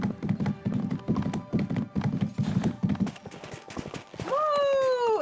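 Horse in the Disney Dreamlight Valley video game, quick rhythmic hoofbeats galloping along for about three seconds, followed by a rising and falling tonal chime-like sound, with no talking over it.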